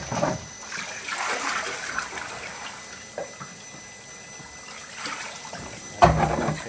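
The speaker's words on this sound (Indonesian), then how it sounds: "Kita harus bilas, kita harus hilangkan ya getih-getihnya" Water sloshing and splashing while a plastic tub or bucket is rinsed, with soft trickles and intermittent splashes of varying loudness and a sharper splash near the end.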